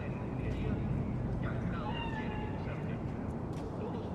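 A cat meows in the video game Cyberpunk 2077, a few thin rising and falling cries over a steady ambient city drone.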